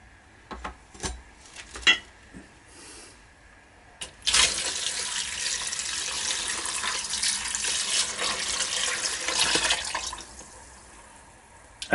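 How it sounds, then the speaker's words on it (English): Liquid of copper chloride and hydrochloric acid poured onto gold-cornered BGA chips in a container, a few scattered clinks and taps at first, then a steady, loud, hissing splash of pouring for about six seconds before it tapers off. "And now we're going to add more of the liquid."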